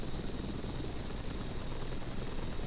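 A helicopter hovers in a flight simulator video game, its rotor and engine producing a dense, steady broadband roar that fills the whole stretch without any voices.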